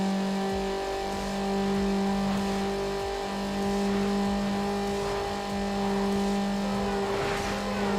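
A Mazda Miata engine drones at sustained high revs in Need for Speed Underground, a steady buzzing tone that rises and falls slightly as the car races on, loud and continuous with no talking.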